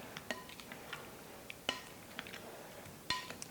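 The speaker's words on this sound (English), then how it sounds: "Okay, stir it up." A spoon stirs butter and seasoning through a low-country boil grill packet, making scattered light clinks and soft taps, close but quiet, with no talking.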